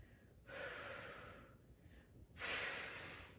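Forceful breathing out through pursed lips during an ab exercise: a long hissing exhale, a softer short breath, then a second louder exhale. All are close, over a quiet background.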